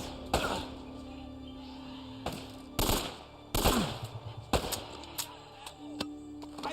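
Gunfire in the video game Uncharted: Drake's Fortune, several sharp separate shots and short bursts at irregular intervals, each with a ringing tail, over a low steady game background.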